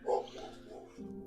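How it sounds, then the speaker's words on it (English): A dog gives a single loud bark near the start, followed by quieter whimpering or yipping sounds over a background of low hum. "Dog."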